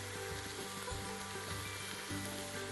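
Ground chicken browns in an Instant Pot set to saute, giving a steady, close sizzle with faint stirring scrapes and a low hum underneath, no voices.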